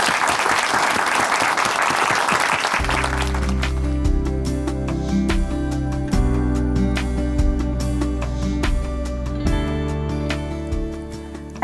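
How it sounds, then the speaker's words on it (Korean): An audience at a church broadcast applauds to welcome a speaker. Dense clapping opens the stretch, then a music bed enters and continues beneath fading applause, with no speech over it. "박수로 오시겠습니다."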